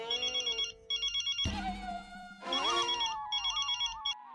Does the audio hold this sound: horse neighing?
no